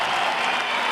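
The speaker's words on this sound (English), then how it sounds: "And he gets a rousing reception." A home crowd at an indoor X-Trial motorcycle trials event in Chambéry, France, gives a local rider a loud, steady wash of applause and cheering that fills the whole moment.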